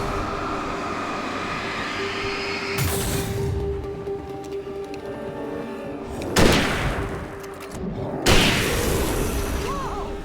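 A rifle in Alan Wake fires three sharp, loud shots spaced a few seconds apart, the first two with a gap of about four seconds, over a steady low mechanical hum.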